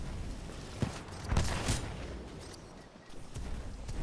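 Booming shots from the Kraber sniper rifle in Titanfall 2 sound over dense in-game battle noise. Heavy reports land at irregular intervals amid continuous rumbling action.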